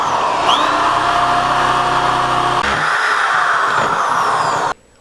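A corded electric drill runs steadily at full speed, continuing a hole already started, with a loud constant whine that shifts pitch partway through as it bites and then cuts off abruptly near the end.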